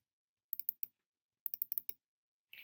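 Three quick, crisp computer mouse clicks, a short pause, then a faster burst of clicks, close and loud against silence, with a softer rustle at the end.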